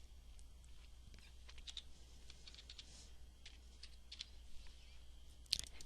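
Values go into a computer keyboard as quiet, close, irregular key taps, some in quick runs and some alone, ending in a slightly louder clack, with a low steady hum underneath.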